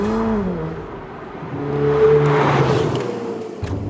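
A Ferrari 488 Pista's 3.9-litre twin-turbo V8 drones loudly up close, its pitch climbing and shifting through revs, with a brief surge mid-way and a drop-off near the end.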